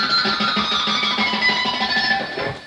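Electric guitar trick where a finger cups the G string, giving a dense, buzzing, effect-heavy wash of high tones that holds steady and close with no voice.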